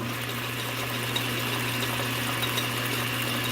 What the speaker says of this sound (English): I'm going to go to the highest speed in the low range. And this is going to cause an increase in sound.